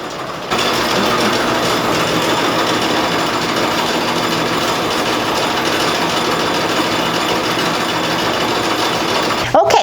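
A fiber mill carding machine runs as a steady, even mechanical hum and whir, starting abruptly and holding a constant level close by, with a brief knock near the end.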